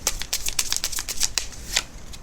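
Tarot cards being shuffled and drawn make a fast run of crisp, papery riffles and flicks, close and fairly loud, in an uneven rhythm with no voices.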